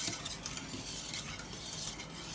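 Champurrado made with Maseca stirred in a pot, a continuous soft hiss with light scraping of the spoon, quiet and even with no voices.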